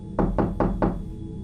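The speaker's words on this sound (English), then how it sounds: "suddenly another forceful knock came upon the window." Four forceful knocks strike a window in an even, quick rhythm, loud and close, with a short ring after each and no voices.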